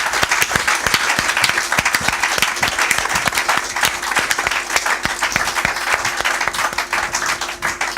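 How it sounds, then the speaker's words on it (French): An audience at a youth-focused religious gathering breaks into sustained, dense applause, many hands clapping steadily and loudly throughout with no gaps. "est-ce qu'on peut acclamer et se réjouir de cette émission?"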